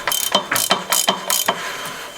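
Ratchet wrench clicking in quick bursts as it tightens the pedal arm bolt on a mid-drive e-bike conversion, about six close, sharp ratcheting strokes in a steady rhythm with no voices.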